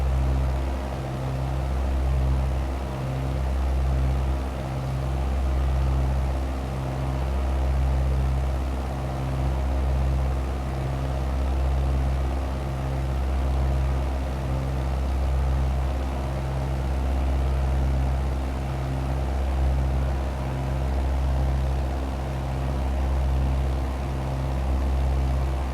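A small plane drones steadily in Flight Simulator 2020 over a small Missouri town, a constant low engine hum with a pulsing propeller throb that holds level and unbroken throughout, with no talking.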